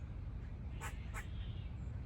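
Two short, harsh chattering calls from a squirrel outdoors in nature, fairly faint and distant, spaced about a third of a second apart over steady low background rumble.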